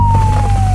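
Wailing electronic siren of an ambulance on a rural Kenyan road, one long steady tone sliding slowly downward, loud and continuous over a low engine rumble, with no voices.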